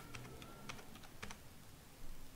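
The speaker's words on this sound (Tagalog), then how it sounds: "Type tayo dito." Number entry on a computer keyboard in a spreadsheet, a short run of crisp, close key presses in uneven bursts with no talking.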